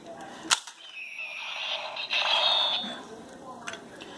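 A single sharp plastic click as a Transformers Robots in Disguise part snaps into Optimus Prime's chest, followed by a bright electronic toy sound effect with a few faint ticks.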